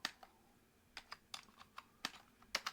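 Computer keyboard keys are pressed one at a time in a loose, unhurried rhythm, about a dozen sharp clicks, close and quiet, with no talking.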